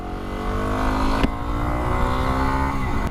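A motorbike engine drones steadily at moderate revs on a road stretch between muddy trails, close and loud, with pitch shifts as the throttle changes and a sharp click partway through.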